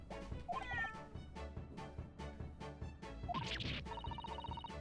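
Cat meowing inside The Great Ace Attorney Chronicles video game, two short mews over a bright, steady game music loop with chiming tones, with no voices.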